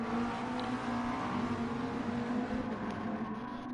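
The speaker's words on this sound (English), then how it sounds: "Gets passed by a Gr4 Viper there." A Gr4 Viper race car passing in Gran Turismo online racing at Sardegna, a sustained steady engine drone with a strong low tone holding throughout, loud and close.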